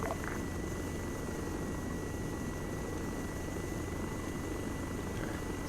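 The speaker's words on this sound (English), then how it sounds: "There's 3 choppers on a little flight deck." Military helicopters in a simulation game, a constant loud rotor drone and turbine whine filling the whole stretch, close and unbroken, with no voices.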